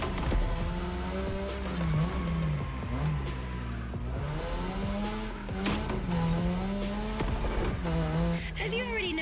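Car drifting on a drift track in The Crew Motorfest, a loud continuous engine drone with tires squealing through repeated slides, with game music and a voice speaking over it.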